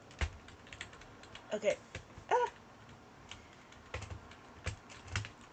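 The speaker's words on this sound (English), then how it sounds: "Sorry, I'm trying to fix my keyboard." Irregular clicking taps from a computer keyboard being typed on while someone tries to fix it, faint and close, with a brief spoken word partway through.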